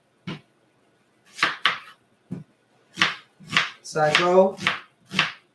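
A knife chops a white onion on a board in a home kitchen while a vegan chili is being made, giving a series of crisp, irregular cutting taps, close and fairly loud, with a person speaking briefly between them.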